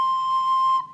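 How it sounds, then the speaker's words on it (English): A recorder sounds a single steady C note, pure and whistle-like, held for nearly a second before stopping. It is clear and close, with no voices. "the way that we're going to play C on the recorder is like this."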